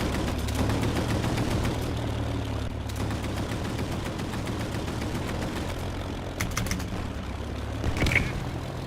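Anti-aircraft gun emplacements fire in a video game as a distant, dense rumble of bursts under an aircraft engine drone, with a few sharper cracks standing out near the end.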